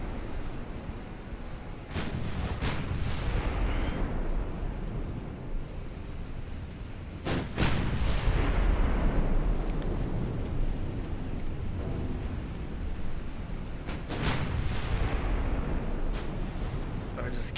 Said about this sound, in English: Just keep on firing at them.